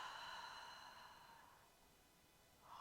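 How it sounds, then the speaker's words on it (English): Gentle breath out during a morning hypopressive exercise, a long quiet airy exhale that tapers off over a couple of seconds, followed by a faint start of another breath, close to the listener and without speech. "And exhale."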